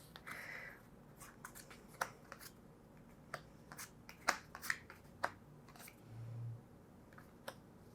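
Board game cards being handled and shuffled on a table, a sparse run of quiet, sharp card clicks and flicks with a short rustling swipe near the end.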